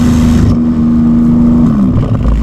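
A Porsche GT2 RS making over 1000hp accelerates on German roads, with a loud, close engine drone and a steady tone that bends downward near the end. The sound is heard from inside the car, with no voices.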